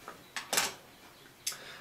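A larger back door snaps onto a GoPro Hero3 camera housing in several sharp plastic clicks and snaps, close and crisp in a quiet room.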